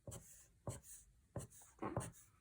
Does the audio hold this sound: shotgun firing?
no